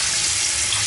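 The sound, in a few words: brand new kitchen faucet running water at high pressure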